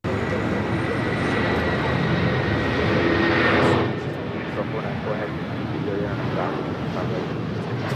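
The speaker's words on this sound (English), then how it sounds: "United 757 taking off" A United Boeing 757 airliner on its takeoff roll, a loud, steady broadband jet roar that swells slightly before easing back a little, continuous throughout with possible voices in the background.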